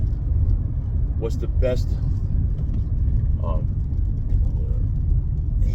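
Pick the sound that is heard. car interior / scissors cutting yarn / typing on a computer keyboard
car interior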